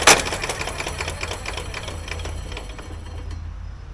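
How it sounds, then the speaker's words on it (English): A lawn mower engine spins over far too freely while cranked with a jump pack, giving a rapid, even mechanical clatter that runs steadily and close before tapering toward the end. "with the issue with the engine just free spinning like that"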